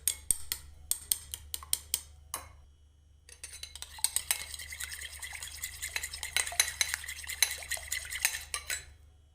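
Chicken shami kabab mixture with seasonings beaten in a bowl: a string of sharp utensil clicks against the bowl, then a fast, steady run of rhythmic tapping and stirring, close and clear, with no talk.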